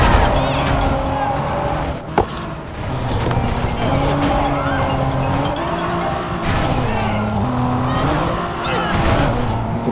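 A car in Driver San Francisco drones steadily with engine hum and shifting pitch, a thump near two seconds, running continuously beneath a talking voice.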